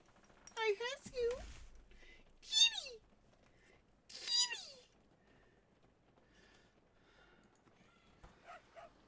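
A white cat meows close by, giving several rising and falling calls with pauses between them, while a person talks softly in a quiet room.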